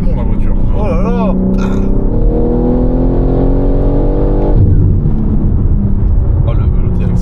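A modified BMW with around 1,000 horsepower accelerates hard, loud and close, its engine note rising in a long sweeping pull before shifting. People talk excitedly over the roar.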